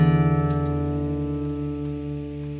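A guitar's low E string, being tuned down to drop D, rings together with the D string with a wavering beat at first that slowly steadies as the pitches come into tune, sustained and fairly quiet.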